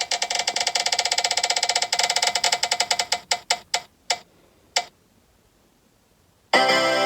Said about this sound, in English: or just the spin wheel I got on my iPad